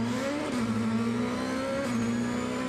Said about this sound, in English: Polish driver revving up, going through the procedure. Red lights on, off, and he's away. Bit of wheel spin there.